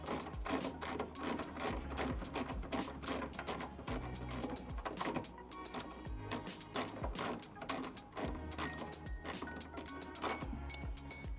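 A 13 millimeter wrench tightens a bolt on a bracket, a rapid ratcheting clatter of many clicks in quick bursts, close and fairly quiet.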